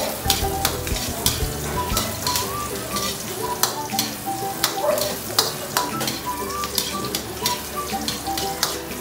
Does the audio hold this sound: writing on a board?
no